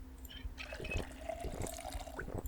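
Water runs and trickles from a tap in Project Zomboid as a character drinks, a soft, close watery gurgle with a few drips.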